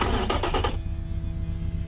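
Boxer four-cylinder engine in the Automation car game firing up: a loud, dense cranking roar for under a second, then settling into a steady, low, even idle rumble.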